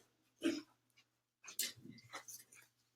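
A dog whimpers and whines indoors in a few short, close bursts separated by quiet gaps, with no one talking.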